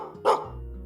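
A single short dog bark in the video game Minecraft, a brief clear woof followed by quiet low background hum, no talking.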